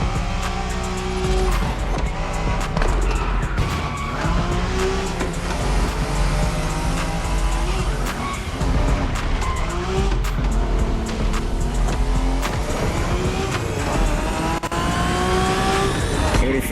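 Japanese street racing cars in The Crew Motorfest scream at high revs with repeated tire squeals and skids, loud and continuous as the engines shift pitch through gear changes.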